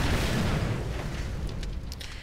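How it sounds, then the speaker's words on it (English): Gas tanks blow up in the Mad Max video game, a dense, loud explosive roar that fills the whole clip, with crackling debris rising toward the end and no voices. "So I need to blow up these gas tanks."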